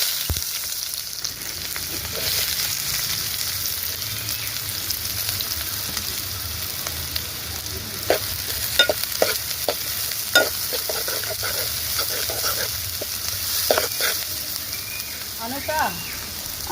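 Ingredients frying in hot oil in a pan while cooking chapala pulusu, a Telugu fish stew: a steady hiss and sizzle with occasional clinks of a ladle against the pan, heard up close.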